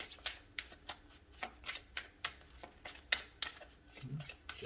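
A tarot card deck is shuffled by hand in a quiet room, a rapid series of crisp riffling bursts, roughly a dozen short rustles in an irregular rhythm, close and fairly soft.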